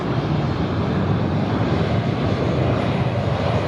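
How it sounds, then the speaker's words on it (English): At Sydney Airport at night, an aircraft passes with a steady, broadband engine roar, loud and unbroken, with some wind buffeting and no speech. "That aircraft there."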